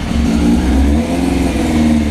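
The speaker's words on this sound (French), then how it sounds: "Oh, ça change de bruit avec le pot!" Engine revving loudly up close, its tone altered by the exhaust pipe, a strong low growl that rises and settles in uneven swells over a couple of seconds.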